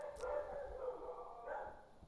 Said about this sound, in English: My dogs are very aggressive today.